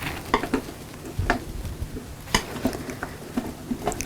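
Oil paint and cold wax being stirred and mixed with a palette knife, Indian yellow and titanium white blended with a little Chinese orange, giving soft, sticky scraping and smearing strokes in an irregular rhythm, close and fairly quiet.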